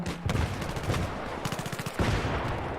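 Bursts of gunfire in the Battlefield video game, with rapid automatic rattles and sharp shots following one another in quick succession.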